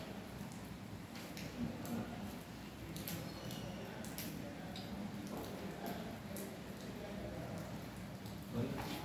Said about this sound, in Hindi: बाहर भी यहाँ पे भी बरसात हो रही है